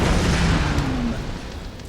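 Explosion in Tomb Raider (2013): a loud, broad roaring blast that rumbles and slowly decays over about two seconds, filling the low end and heard alone without talk.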